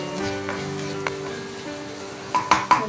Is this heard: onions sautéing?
yes